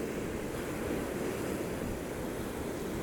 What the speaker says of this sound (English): awoken by the waves breaking on the rocks below my hotel room